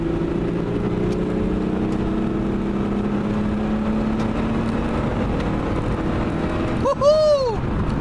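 A V6 car accelerates hard on a road, its engine droning steadily and building before a brief whooshing rush near the end.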